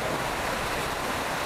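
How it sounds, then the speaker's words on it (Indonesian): A household electric fan blowing steadily at close range, a continuous broadband rush of air with no pauses and no voices. "Seperti kipas angin inilah."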